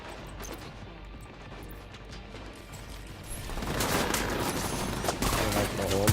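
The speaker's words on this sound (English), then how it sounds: "Bust these fools with the shotgun" Shotgun and other gunfire in The Division 2, a dense volley of shots building louder and more chaotic in the second half, with voices underneath.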